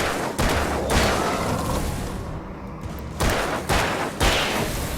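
Shotgun blasts in the video game Alan Wake, heavy booming shots at the start and again near the end, loud and close with rumbling echo between them and no talk.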